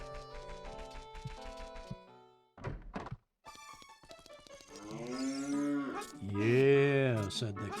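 In the video game Zelda Ocarina of Time, a synthesized cow moos with a long, wavering low call near the end, after chiming game music tones and a couple of soft thunks.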